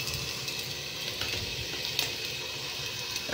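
Garlic and onion sauté in a little oil for native chicken tinola, a steady close sizzle and crackle that holds throughout with no talking.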